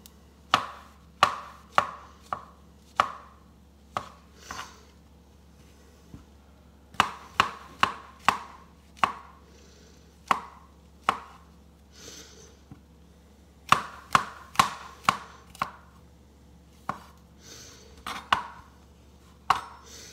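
A kitchen knife chops food on a board in irregular bursts of sharp, crisp knocks, sometimes quick runs of several strokes, with short pauses between. The chopping is close and alone, with no voices, a low hum underneath.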